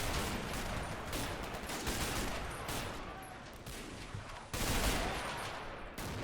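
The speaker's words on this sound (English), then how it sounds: "More Vickers machine guns just defending the stairs too" Vickers machine guns defending a British fort in the Men of War: Assault Squad video game, firing dense sustained bursts with brief pauses, loud and close.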